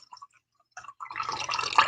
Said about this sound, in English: Guess I need to pour some more.